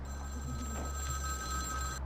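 A telephone in the video game Vampire the Masquerade Bloodlines rings continuously at a steady, fairly loud level, a sustained electronic ring with no pauses until it cuts off at the very end.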